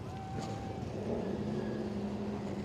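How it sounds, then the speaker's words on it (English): At Owosso Speedway, a pace car and a pace truck roll toward turn one, their engines a low, distant, steady drone with faint whines rising over the track's background noise. "The Owosso Speedway pace car and the Jegs CRA All-Star Stewart pace truck rolling to turn number 1."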